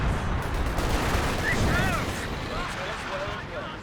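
A rocket artillery barrage from a Walking Stuka in Company of Heroes 2, a dense, continuous rumble of rapid blasts and crackling impacts, loud and sustained throughout, with faint whistling streaks over it and a voice talking underneath.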